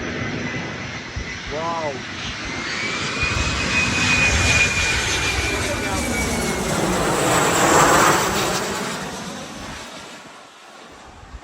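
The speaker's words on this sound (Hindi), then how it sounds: "और देखिए आप कितनी नज़दीकी से आ रही है ये जहाज़" An airplane passes low overhead near Mallorca on a windy day, a swelling roar of engines that builds, peaks and fades, with wind buffeting the microphone and a person briefly exclaiming.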